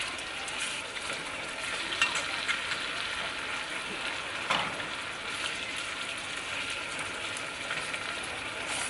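Ribeye steaks fry in a cast iron pan with butter, a dense, steady sizzle and crackle holding at an even level throughout, close by, with a few faint spatter pops and no talk.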